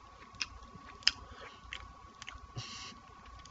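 Chewing a big bite of bacon bits and cheese from a Jimmy Dean Meat Lover's breakfast bowl: close, quiet crunchy bites and moist chewing in an irregular rhythm over a faint steady hum.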